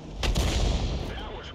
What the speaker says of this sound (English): Now, she's using the 8-inch howitzer